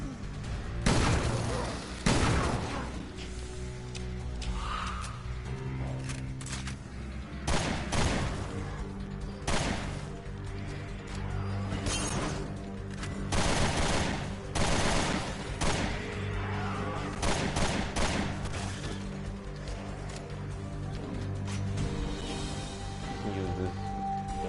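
Video game gunfire crackles in dense bursts, with rapid volleys and booming shots stacking up over a busy, continuous mix that runs throughout.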